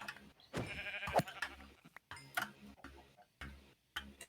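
Sheep in the video game Minecraft let out short, faint bleats between ticking game sounds, quiet and intermittent.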